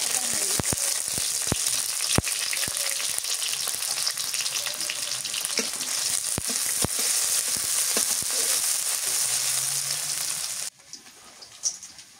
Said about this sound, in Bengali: করলা ভাজি করবো তো তেল দিই।